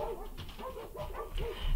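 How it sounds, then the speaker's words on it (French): Dogs give soft, short barks and whimpering yips close by, several brief calls over about two seconds with no talking. "les chiens aboient"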